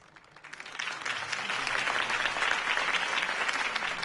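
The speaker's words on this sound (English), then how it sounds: "If only Mr. Wayne, my campaign's largest backer, could have heard that applause" A crowd applauds in the Batman: The Telltale Series video game, with dense clapping that swells from a quiet start into a steady, full ovation and holds to the end, no speech over it.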